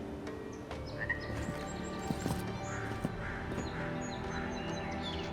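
A bird cawing somewhere in the fantasy world of the video game Avowed, a few scattered harsh calls over a busy bed of game ambience and music, moderately loud but partly masked.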